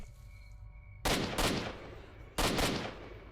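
Two loud, sharp bursts of gunfire from S.T.A.L.K.E.R. Shadow of Chernobyl, the first a quick double shot and the second a single blast, each ringing out over a low hum of game ambience.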